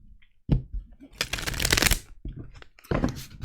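Angel Guide oracle cards shuffled by hand at close range: a sharp riffle, a longer dense flurry of card slides and flutters, then another riffle, with no talking.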